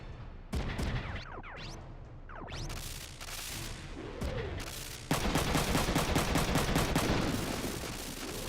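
Shotgun blasts from a mech in the tactical game Front Mission 3, sharp loud bursts layered over busy battle effects and whooshes, ending in a dense rapid volley of repeated shots.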